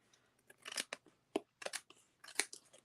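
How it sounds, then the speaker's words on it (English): Scissors trim overhanging pebbled path material in a crafting project, making a few separate crunchy snips spaced irregularly. The snips are close and fairly soft, with quiet gaps between them and no talking. "So I'm just going to go ahead and trim the whole thing."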